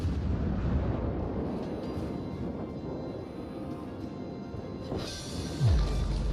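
Naval artillery booms and shell impacts from the World of Warships game form a dense, heavy low rumble throughout, with a sharper burst and descending tone near the end.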